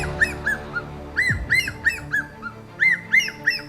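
An ornate hawk-eagle calling in forest, a series of clear, high, arched whistled notes repeated at a steady rhythm, fairly close and loud, with a brief low thump partway through and no talking.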